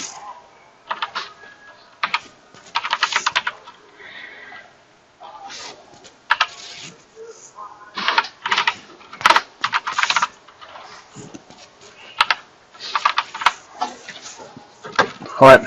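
Close, crisp computer keyboard typing in short bursts and scattered single key taps as a work email address is entered into a form, with no one speaking.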